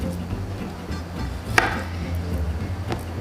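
Knife chopping raw ahi tuna on a cutting board for Hawaiian poke, with one sharp chop standing out and a few softer cuts around it over a low steady background hum, close and without talk.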